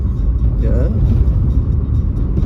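A small Triumph Herald car rumbles close by with a steady low engine note, while a voice briefly speaks over it.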